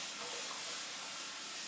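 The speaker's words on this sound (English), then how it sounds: "just apply some of this steam" Steam hisses from a steamer aimed at the ends of a wavy wig, a continuous soft, even hiss with no breaks and no voices.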